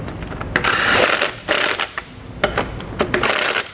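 A ratchet wrench tightens 21 mm lug nuts on a trailer wheel, close by, in several short bursts of rapid clicking separated by brief pauses.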